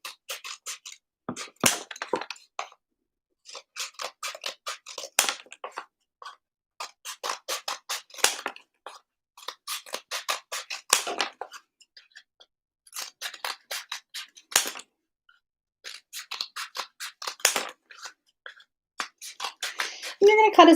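Scissors snip through cardboard paper towel rolls in steady runs of quick crisp cuts, close and fairly loud, with short pauses between batches.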